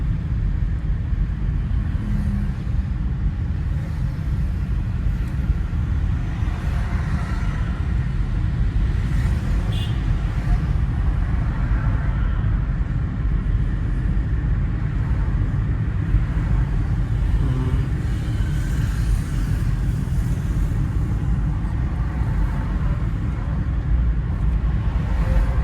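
A car is driven during a basic driving lesson in Chandigarh, giving a steady low engine and road rumble from inside the cabin with no clear breaks.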